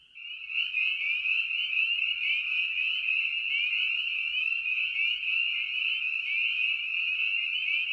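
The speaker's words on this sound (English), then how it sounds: "That's the territorial trill." A chorus frog from the Chicago region gives a territorial trill, a continuous raspy, rapidly pulsed call lasting several seconds, loud and close against a quiet background.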